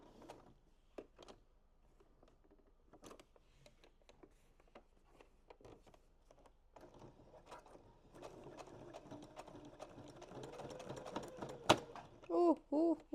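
An unthreaded sewing machine starts with faint scattered clicks, then runs with a soft, steady mechanical whir and rattle that builds, ending in a few louder knocks and short pulses.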